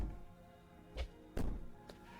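Muffled banging on a door in the video game Slay the Princess, a few dull thumps at uneven intervals, fairly soft and resonant against a quiet droning background.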